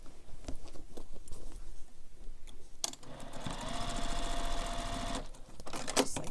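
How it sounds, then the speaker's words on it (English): A sewing machine running a seam within the seam allowance on a backpack, starting with short bursts and a few clicks, then a steady loud rapid whirring run for a couple of seconds before stopping, up close. "I'm going to stitch this within the seam allowance to press it open and keep it pressed open."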